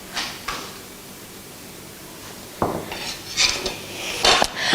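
Dishes and cutlery clatter as a bowl and spoon are fetched in a kitchen, with a sharp clink near the start, then scraping, a drawer sliding and a few louder clanks toward the end, close by.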